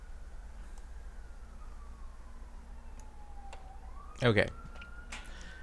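An ambulance siren wails in the distance of a Brooklyn neighbourhood near a hospital, its faint tone sliding slowly down and then back up. A brief louder knock cuts in partway through, and a voice speaks a single word.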